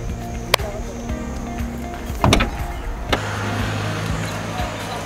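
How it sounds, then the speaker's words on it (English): The electrically operated tailgate of a 2018 Audi A5 closes under a steady motor hum, with a click, then a heavier thud as it shuts, and a final latch click. The sound is close and loud. "So now you get an electrically operated tailgate, as I will show you."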